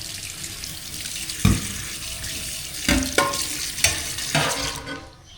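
A spoon stirs a boiling cooking pot of food, scraping and clanking several times against the pot over a steady hiss and bubbling of liquid, close by and moderately quiet.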